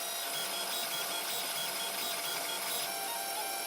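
3D printer printing a herringbone gear, a steady high-pitched whirring of stepper motors with faint tonal warbles as the head moves, continuous and close with no talk.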